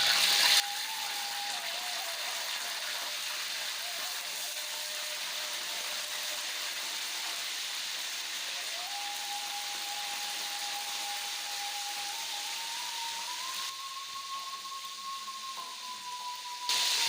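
Fish, a carp, frying in hot cooking oil over medium heat for a Padang-style chili dish: a steady, close broadband sizzle runs unbroken throughout, with a thin faint whine underneath and no talking.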